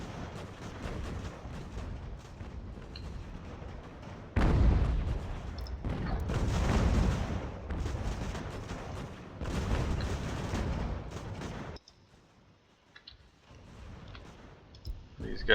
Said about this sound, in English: let's see what our 12-pounders can do